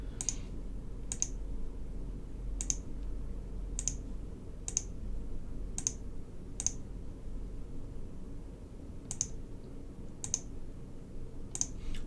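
Sharp, quiet mouse clicks on a computer while grass is placed in the Unity terrain editor, about a dozen single clicks spaced roughly a second apart over a low steady hum.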